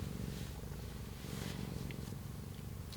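A cat purrs steadily and close up, a continuous low rumbling pulse that carries on without a break.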